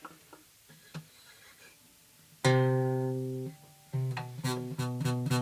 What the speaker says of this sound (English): you'll end up getting fret buzz that happens on one particular string